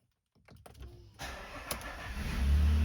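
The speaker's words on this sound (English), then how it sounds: "Start the car up," A third-generation Nissan Frontier pickup's engine cranks with a few quick clicks and whirs, then catches and settles into a growing idle rumble that swells louder toward the end.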